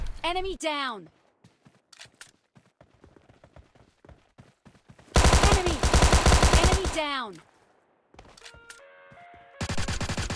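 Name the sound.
gunfire in a shooter video game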